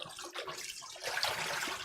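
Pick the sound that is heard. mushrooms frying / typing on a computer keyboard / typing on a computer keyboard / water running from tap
water running from tap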